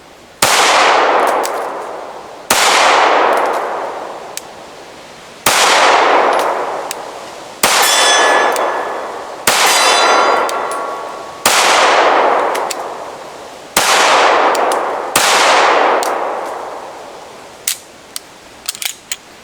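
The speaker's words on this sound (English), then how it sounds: "I'm gonna do the first shot double action like the good Lord intended." Pistol shots on an outdoor range: double-action handguns such as a Sig P229 Elite, Beretta M9A3, CZ P01, CZ P07 and HK P30. Eight sharp, loud cracks ring out one at a time, each with a long decaying echo, spaced a couple of seconds apart, with no talking.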